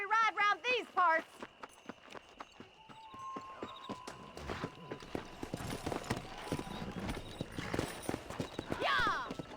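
Horses riding in Red Dead Redemption, a whinny at the start, then clip-clopping hooves building into a faster, louder gallop, with voices talking over parts of it.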